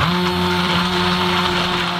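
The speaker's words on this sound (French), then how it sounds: "on peut repasser un petit coup de mixeur plongeant pour mélanger la préparation" An immersion blender runs steadily through chocolate caramel tart filling with butter added, a loud, even motor whine held for two seconds with no pauses and no voices.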